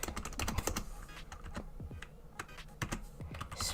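Rapid, close keystrokes rattle on a computer keyboard in uneven bursts and short pauses, crisp clicks with no talking.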